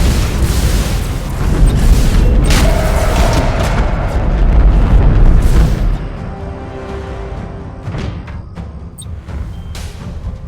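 A heavy booming explosion as an enemy defense platform is destroyed in the space battle game Battlefleet Gothic Armada 2, a loud rumbling blast that lingers for several seconds before fading into quieter crackles and debris pops.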